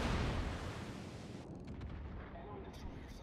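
High-explosive shell fire from a Yamato battleship in World of Warships, a loud broadband blast that opens the clip and rolls into a rumbling, decaying tail.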